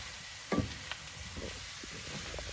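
Chicken escalopes and mushrooms fry in a pan with a soft, steady sizzle, punctuated by a clattering stir early on and a few lighter knocks and scrapes.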